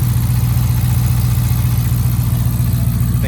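A Dodge Charger with a 5.7 Hemi V8 idles steadily in a salvage auction yard, a loud, close, even low rumble with a regular pulsing beat and no change in revs.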